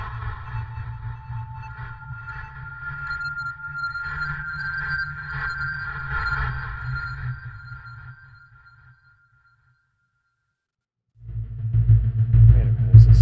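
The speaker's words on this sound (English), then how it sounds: "Distortion field. Oh, it's just another weapon." A distortion field weapon fires in the retro sci-fi game Axiom Verge, a sustained electronic droning buzz that throbs for several seconds, cuts to silence, then returns louder.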